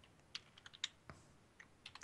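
Quiet clicks of a computer keyboard tap out in short, irregular bursts, with a few sharper keystrokes and soft gaps between them, heard alone.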